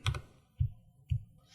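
Three separate keystrokes on a computer keyboard, close and fairly quiet, spaced about half a second apart, as a terminal command is finished and entered on a Mac.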